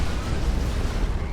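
A dense, roaring explosion in the Dawn of War 2 strategy game, a continuous loud rumbling blast with heavy low-end that fills the whole moment without pause.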